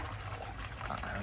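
A small garden stream runs into a backyard pond, giving a steady close trickle and pour of water with no break and no voices over it.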